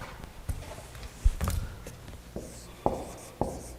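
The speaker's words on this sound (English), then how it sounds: "I'm going to write it here." Chalk taps and scrapes on a board during a physics lecture, a handful of sharp faint knocks spread over a few seconds against a quiet room hum.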